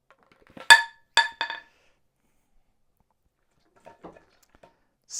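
An iPad Pro fitted with a tempered glass screen protector dropped from 6 feet, landing with a sharp clattering impact and two quick bounces, followed by faint small rattles and a soft knock, no talk.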